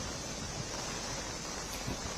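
Floodwater rushes through the opened gates of an overflowing dam after a cloudburst in Doda, Jammu and Kashmir, a dense, steady roar of churning water with no breaks.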